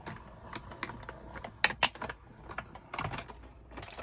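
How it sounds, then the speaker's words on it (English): Paper rolled through a die-cut machine while crafting a Stampin' Up! wrapped bouquet, heard as a series of close, soft mechanical clicks and rattling crunches with two sharper snaps near the middle, and no one speaking. "I am going to cut this out and just roll it through"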